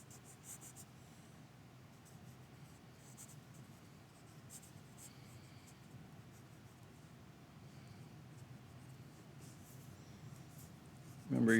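Pencil scratching across paper in quick, flowing strokes during gesture drawing of a figure from life, a close, steady soft scraping with short pauses, a brief louder bump at the very end.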